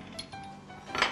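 A plate is set down among dishes in a kitchen during cooking, giving a couple of light ceramic clinks and a brighter chink near the end, fairly close and quiet.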